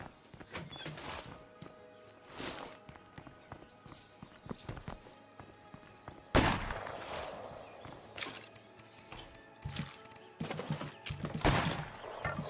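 Rapid gunfire from a zombie survival video game, bursts of shots cutting in repeatedly over ambient game noise, with voices talking over the action.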